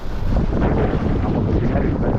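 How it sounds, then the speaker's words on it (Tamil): Strong gusty wind buffeting the microphone at a fishing jetty, a loud continuous roar with rumbling low-end pressure and no clear voices. "ஸோ கைஸ் காற்று கொஞ்சம் ரஃப்பாக இருக்குது"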